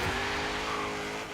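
Renault Alpine GTA rallycross build launching in Forza Horizon 3, a steady loud engine roar with a hint of tire squeal, sustained for a brief moment then easing slightly.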